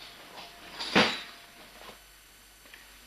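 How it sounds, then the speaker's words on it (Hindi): A door is pulled open in a quiet room: a single close wooden knock or clunk with a short creak, with faint rustling on either side. "बेदाना, दरवाजा खोलो तो।"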